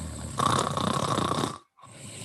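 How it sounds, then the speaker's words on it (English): Loud snoring sound effect from a radio ad: one long, rough, rattling inhale, a brief silence, then the start of another snore. "Do you suffer from secondhand snoring?"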